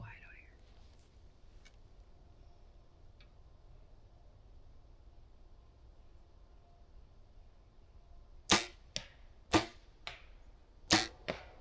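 Quiet Wisconsin woods hold near silence for several seconds before a cluster of sharp, loud impacts rings out as an arrow strikes arrows in a practice target, the cracks spaced irregularly near the end.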